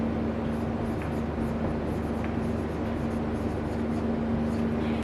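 A pen scratching continuously across paper while essay notes are written by hand in shorthand, close and steady over a low electrical hum.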